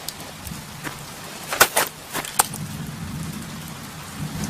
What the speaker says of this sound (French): J'ai l'impression qu'il se prépare un bel orage